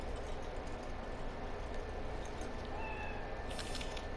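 A cat meows in the game Cyberpunk 2077, a brief faint call heard over a steady low hum of background noise, with a short brighter burst near the end.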